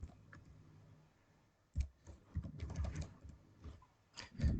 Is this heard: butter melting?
no